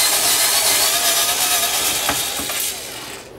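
A screwdriver works the last hidden screw out of a Toshiba 23HLV85 LCD TV-DVD combo, giving close, steady ratcheting and scraping clicks that taper off near the end.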